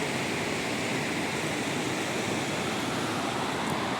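The Baspa river flows beneath a bridge with a constant, loud, even roar of rushing water, close by and with no other sounds over it.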